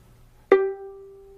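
A single violin note, G played on the D string, starts with a sharp bowed attack and then rings as a steady, clear tone that slowly fades. No other sounds are present.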